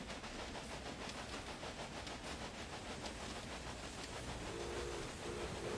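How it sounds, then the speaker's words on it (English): A train rolls in on a track in the railway management game Railway Empire, a steady low rumble with faint hissing and a brief tonal squeal near the end, heard without talk. "Maybe another train's coming in on that other track."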